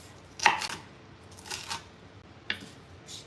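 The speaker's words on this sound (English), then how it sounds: "I think I'll cut up the garlic" Knife chopping garlic on a cutting board: three separate, crisp knife strikes, the first the loudest, set against a quiet room with no talking.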